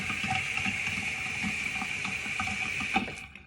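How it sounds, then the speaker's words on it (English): Tap water runs steadily onto a makeup sponge in a sink, a close continuous hiss and splatter with faint squishing underneath, cutting off at the end. "you fill the sponge up with water, and then you squeeze out all the remaining liquid"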